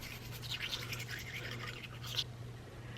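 A small toothbrush scrubs teeth in a steady, soft, hissy bristle rhythm close to the listener, continuing over a low background hum with no talk.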